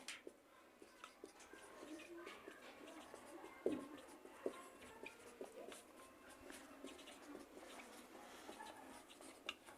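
Soft scratching of numbers being written by hand, quiet and intermittent strokes with faint background noise and low talk.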